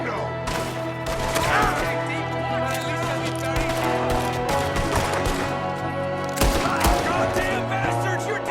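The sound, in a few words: gunfire from a window in the video game Red Dead Redemption 2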